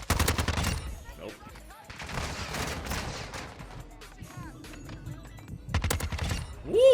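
Gunfire in the multiplayer shooter Modern Warfare 2: bursts of rapid shots close by, with quieter stretches between them and another flurry near the end, under someone talking.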